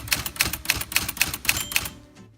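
Keys struck on a Remington Quiet-Riter typewriter in a quick, even run of about eight crisp clacks up close, ending with a brief mechanical rattle.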